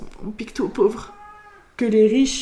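A pet domestic cat meows in a home during a live podcast, a drawn-out, wavering meow heard briefly between and under a man's speech.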